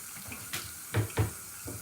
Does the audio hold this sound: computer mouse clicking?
no